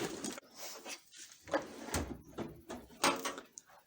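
Drawers on a tool bench slam shut in a quick, irregular run of bangs and rattles, with loose items clattering inside. The sound is close and fairly loud.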